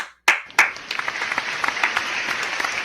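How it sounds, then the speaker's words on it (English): A round of applause from a crowd, beginning with a couple of sharp claps and swelling into steady, dense clapping that carries on throughout. "You hear that? A round of applause."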